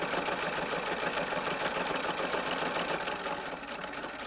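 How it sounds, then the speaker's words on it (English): A sewing machine runs in a steady, fast, continuous whir as it stitches the seam of a small shirt dress for a doll, close and fairly loud throughout, with no voices. "we're going to come and sew all the way down to this point down here."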